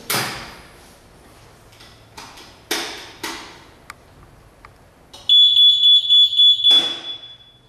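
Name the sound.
access control door alarm beep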